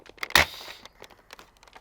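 A Big Lots Ultra Four toy blaster fires once with a sharp, fairly loud thump near the start, followed by faint crinkly handling noises and small clicks.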